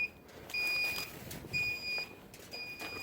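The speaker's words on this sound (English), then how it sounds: "That's just a temp alarm warning you." Flame Boss temperature alarm on a Kamado Joe Big Joe grill beeps in three evenly spaced, sustained electronic tones, each about half a second long, faint against quiet background noise.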